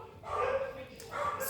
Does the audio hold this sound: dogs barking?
yes